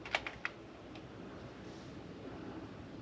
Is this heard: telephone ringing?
no